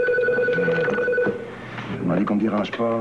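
A telephone rings with a steady tonal electronic bell, sounding through the first part while someone talks over and after it.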